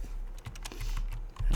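Computer keyboard keys clatter in a quick irregular run of close clicks, with a louder cluster of taps near the end, no voices.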